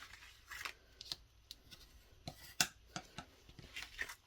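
Scissors snip through card paper for a pop-up box card in a series of quiet, irregular close-up cuts, with soft paper rustling between the clicks.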